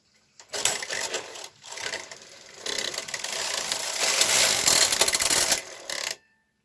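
The K carriage of a KH 965i knitting machine slides back and forth across the needle bed with a loud mechanical clattering rattle, in two long passes separated by a short pause.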